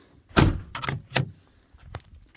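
A truck toolbox is shut and locked with a few sharp metallic clunks and latch clicks: one loud thud, then two lighter knocks and a faint final click. The sounds are nearby, with quiet between them.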